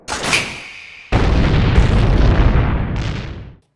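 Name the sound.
bomb explosion in anime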